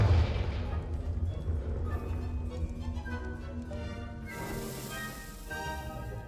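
Blasting spell detonations in the Hogwarts Legacy video game, a rumbling low boom spread across the clip with crackling debris and bursts, the loudest impact near the start and another rising toward the end, over continuous game music and effects.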